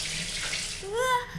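Hot bath water gushes from a tap into a tub in the Corpse Party video game, a steady close rushing stream that swells slightly near the end.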